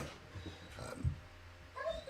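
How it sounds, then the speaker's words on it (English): A dog whines briefly and faintly in a quiet room, a short soft whimper rising over low background hum, with a few quieter yips around it. "My dog is whining for no apparent reason."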